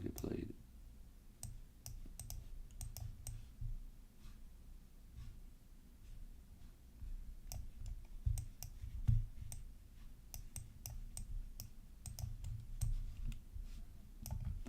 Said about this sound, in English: that's a lot of clicking